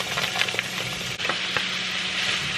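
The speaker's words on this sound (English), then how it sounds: "So I'm gonna basically just brown the meat." Ground meat browning in a pan on a home stove, a steady broadband sizzle with brief stirring clatters and a soft thump partway through, close and continuous with no talking.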